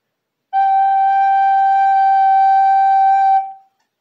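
A recorder plays the note D slurred with no tonguing, so the last three notes run together as one unbroken sustained tone of about three seconds, clear and close, with nothing else around it.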